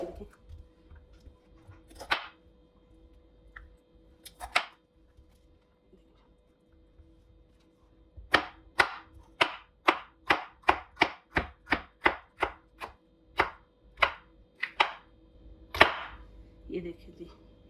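Bell peppers are sliced lengthwise with a knife on a board while preparing bhuna meat: a few scattered cuts, then a quick run of evenly spaced, close, crisp chops, with more sparse cuts at the end.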